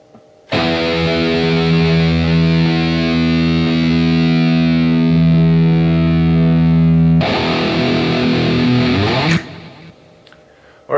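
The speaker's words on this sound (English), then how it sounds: "I'm going to play my low E string for your tuning reference" A single low E string on an electric guitar through a heavily distorted metal tone rings out loud and sustained for several seconds, is briefly re-struck, then cuts off, with no voice.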